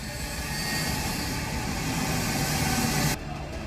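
US C-17 Globemaster military transport aircraft on the runway at Kabul airport, a steady loud jet engine roar with broad rushing noise, holding constant before cutting off abruptly near the end.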